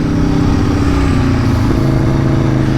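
The engine and exhaust of a 2020 Aprilia Tuono V4 RR motorcycle roar steadily, loud and close, in a dense, aggressive drone with slight rises in pitch as it rides at Misano.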